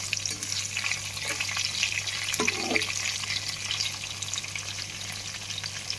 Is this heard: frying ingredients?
yes